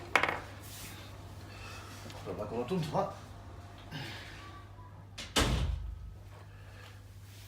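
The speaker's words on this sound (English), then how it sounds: "I was going to shut that door because it's making a lot of noise" A door swings shut with a sharp thud partway through a quiet room, following an earlier knock, while a person speaks nearby.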